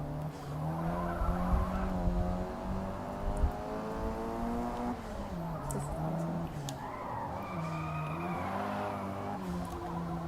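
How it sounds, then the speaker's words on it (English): A Honda Civic Type R races in Forza Motorsport, its engine droning and shifting pitch through gear changes while tires squeal and skid steadily through corners, loud and continuous. "We are driving the Honda Civic Type R, I believe."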